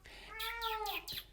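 A pet cat lets out a drawn-out meow followed by a short second call, close by but soft, with no one talking over it.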